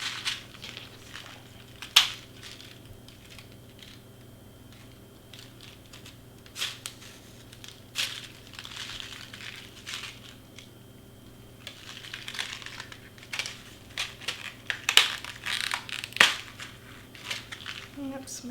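A tape-covered package being pried and torn open during a princess shaker topper craft, with scattered crinkles, scrapes and sharp tape snaps spread across nearly twenty seconds, close but fairly quiet amid room noise.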